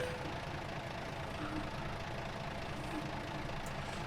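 A truck engine idles in American Truck Simulator, with a steady, low-to-mid rumble and faint knocking that holds evenly throughout, quiet and without talk.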